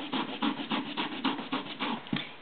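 Fresh ginger rubbed along a fine microplane grater, giving a steady series of about nine rhythmic rasping strokes, close and fairly loud, with no talking.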